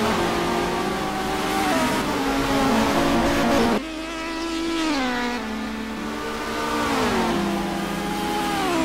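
BTCC touring cars racing at Knockhill, Scotland, their engines revving hard in rising and falling sweeps as the cars accelerate and shift close by, with no talk over them.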